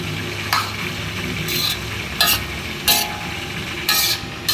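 Pancit bihon rice noodles stir-fried in a pan, a steady close sizzle of frying broken by several short bursts of scraping and tossing as the noodles are stirred, with no talking.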